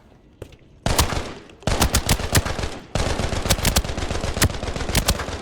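An assault rifle loaded with T5 ammo fires in Arena Breakout. Loud, close bursts of rapid shots at a moderate rate are broken by short pauses, then settle into sustained automatic fire.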